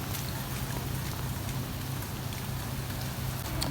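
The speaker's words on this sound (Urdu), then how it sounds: "یہ دیکھیں تیز بارش نے ہمارا ستیاناش کر دیا" Heavy rain pouring down outdoors, a continuous dense hiss of drops hitting surfaces at steady strength throughout, with no voices.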